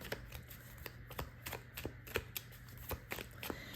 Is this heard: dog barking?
no